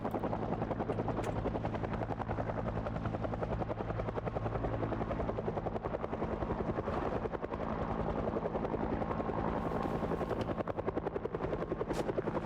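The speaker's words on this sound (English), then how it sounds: "Oh, that helicopter's right over us." A helicopter in a video game hovers directly overhead, its loud, steady rotor drone filling the whole stretch without a break.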